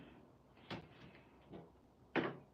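The hinged door of a stamping tool closes while a Lavinia Stamps fairy is being stamped for a garden-inspired card. A few soft knocks build to a final sharper clack, each quiet and close by.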